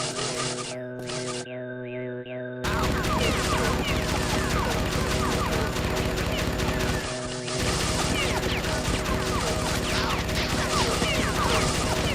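Sligs firing guns in Oddworld: Munch's Oddysee, heard as dense rapid bursts of gunfire and crashing impacts that run almost continuously over droning game music, after a short quieter opening.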